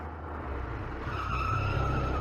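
The Shen family car arrives with its tires skidding: a steady engine roar builds into a drawn-out, high-pitched squeal that holds loud and close for a couple of seconds.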